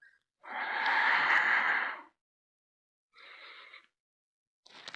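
Slow, audible breaths during a standing-balance yoga session: a long, broad exhale-like rush, a shorter breath after a pause, and the start of another at the end, close and fairly quiet with no talking.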